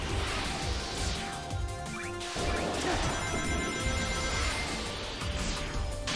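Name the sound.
stained glass windows breaking in Shadow Generations video game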